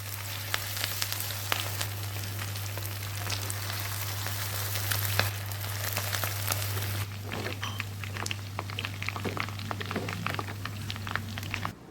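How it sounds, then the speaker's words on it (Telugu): Marinated chicken pakoda pieces frying in hot oil, a dense continuous crackling sizzle with fine popping, steady and close, with a constant low electrical hum underneath. "మనం ఇందాక మ్యారినేట్ చేసి పక్కన పెట్టుకున్నటువంటి చికెన్ని కొద్దిగా వేసి వేయించుకోండి"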